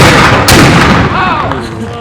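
A historical musket volley fires at a village reenactment, a single loud near blast at once followed by a rolling echo and fading rumble.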